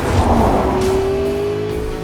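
McLaren P1 supercar engine revving in Forza Motorsport 5, a loud sustained roar with a rising whine climbing steadily over about two seconds, heard up close with no talk.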